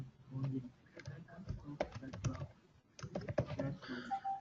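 An IP address is tapped out on a computer keyboard as irregular clusters of quiet key clicks with short pauses, faint and close, with a voice partly heard alongside.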